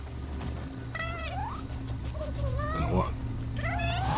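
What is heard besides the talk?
cat meowing in video game Nioh 2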